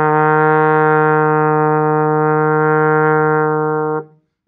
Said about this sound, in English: E flat sounds like this.